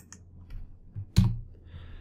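Short keyboard typing in an Excel spreadsheet, a few soft key taps and one sharper click, close and quiet with no talk.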